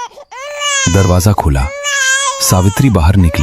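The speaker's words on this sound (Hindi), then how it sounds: "बस बच्चे की पहली रोने की आवाज गूंजी" A newborn baby cries in a village hut in a Hindi horror story, the wailing rising and falling in repeated sobbing bursts while a narrator speaks over it.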